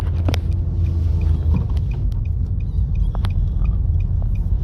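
Car engine idling and rumbling during a manual-transmission driving lesson, a steady low drone with small clicks and knocks of the gear change, heard from inside the cabin with no talk.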